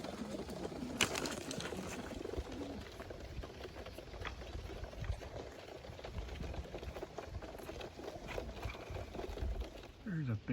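Young pigeons released outdoors on a bird toss, with soft cooing and fluttering amid open-air ambience, a muffled voice now and then and a brief sharper burst near the end.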